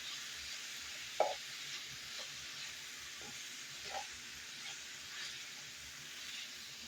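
Bacon and vegetables caramelize in a pan in a Southern-style home kitchen, giving a quiet, steady sizzle with a few sharp clinks of a utensil stirring against the pan.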